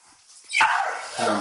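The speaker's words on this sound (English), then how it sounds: "These damn dogs keep fucking playing, man" Dogs at play give a sharp, close bark followed by scrabbling, yips and a further bark, loud and near.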